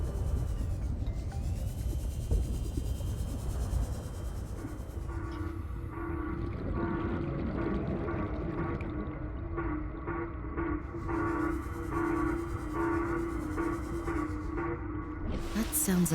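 A low, drawn-out creature roar from the underwater video game Subnautica: Below Zero, rumbling and droning for many seconds over dense ambient game noise, with a sustained tonal moan building partway through.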